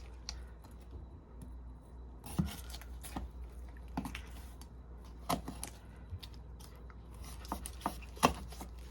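Knife or shears cutting through a raw turkey being spatchcocked, a string of crunchy snips and cracks through bone and cartilage at an uneven pace, close up, no talking.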